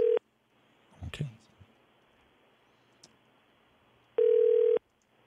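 A telephone line during a live radio call-in rings in two long, loud steady tone bursts at the start and end, with a brief murmur of voices and faint clicks in between.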